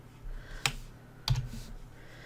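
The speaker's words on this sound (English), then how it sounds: "So I'm holding the control key down and then just clicking on them over in my sequence view." Two sharp computer clicks, likely a mouse button pressed while the control key is held, sound close and isolated in a quiet room about half a second apart.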